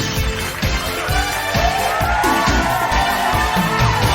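A game-show studio crowd cheers and whoops loudly and steadily, a dense wall of applause with rhythmic clapping pulses running throughout.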